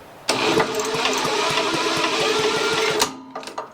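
A Briggs and Stratton small engine with no spark, spun over by hand, giving a rapid mechanical chattering and whirring burst of about three seconds, loud and close, followed by a couple of short rattles.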